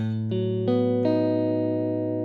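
Guitar notes plucked on the E string at the 5th fret with the A string muted, three or four clear picked onsets ringing and sustaining, close and alone with no talk.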